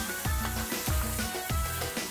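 Ground hamburger meat sizzling in a pan while being stirred, a steady hiss broken by a few regular scraping strokes of the spoon, close up with no talking.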